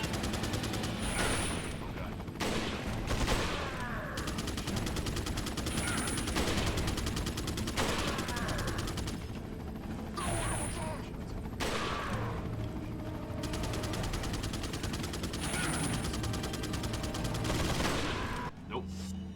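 Gunfire from Resident Evil 4 HD, with repeated shots and bursts popping through a dense, continuous game soundtrack with mechanical clatter, steady and loud across the whole stretch.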